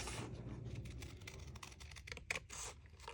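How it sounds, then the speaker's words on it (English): Scissors snip steadily along a drawn line through a sheet of craft paper, making close, dry scratchy cuts in a quick, uneven rhythm with no voices. "I'm going to take my scissors and I'm going to cut along the line."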